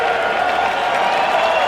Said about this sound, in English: And great reaction by the crowd.